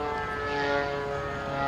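Model F4F warplane engine running steadily during ground taxi tests, a continuous loud tonal whine with strong harmonics holding steady throughout with no talk.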